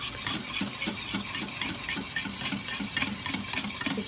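A spoon rubs and scrapes steadily in a bowl as muffin batter is mixed at home by a mother with her young son, a continuous rasping swish close by with rhythmic strokes and no talking.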